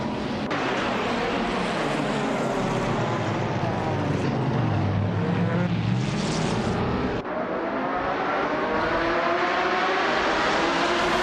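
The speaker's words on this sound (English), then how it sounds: "the race is underway at the Cleveland Grand Prix track" Race cars roaring off the start at the Cleveland Grand Prix track in a racing video game, with the pole car a 2003 Seat Toledo GT; a loud, continuous engine drone rises and falls in pitch as the cars accelerate.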